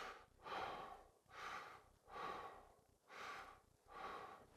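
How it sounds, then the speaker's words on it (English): Rapid, heavy breathing in five rhythmic breath cycles, each a loud rushing inhale-exhale close to the listener, demonstrating fast breathing during a panic attack with no talking over it. "So you can speed up your breathing"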